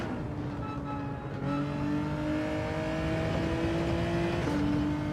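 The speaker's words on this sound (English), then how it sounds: "Wow, the acceleration on this car." Engine of a car in the Gran Turismo 7 racing game pulling hard under acceleration, a loud continuous revving drone climbing through gear shifts, with no talking over it.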